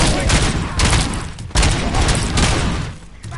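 Gunfire in the Robocop video game, a loud, dense barrage of shots and booms with short breaks, with voices mixed into the noise.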